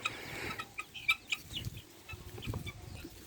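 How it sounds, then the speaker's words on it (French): A tailless Spanish gamefowl chick gives a few short, high clucks and peeps, fairly close, over a steady background hiss and low rumble. "un petit poussin combattant espagnol sans queue"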